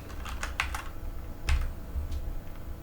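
Keys pressed on a computer keyboard while flying an F/A-18C in DCS, a few sharp clicks in a quick cluster, then isolated taps against a soft background rumble.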